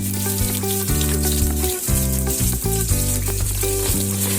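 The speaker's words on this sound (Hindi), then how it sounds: "ये हमारा प्याज है, इसको मैंने शामिल कर दिया है घी के साथ।" Onions sizzling in hot ghee in a pan, a loud, steady fry with strong tonal hum and clatter running throughout without talk.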